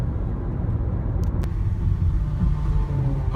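A Nissan Leaf electric car drives along a main road, producing steady low road rumble and tyre noise that stays loud and continuous throughout, with no voices.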